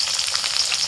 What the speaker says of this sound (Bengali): এবার ওই তেলের মধ্যে দিয়ে দিচ্ছি পেঁয়াজ কুচি